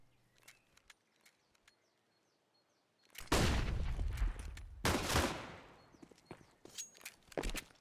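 Gunfire in a CS:GO match: a few sparse shots, then two dense, loud bursts of rapid fire in close succession, followed by scattered shots and footsteps, with no talk.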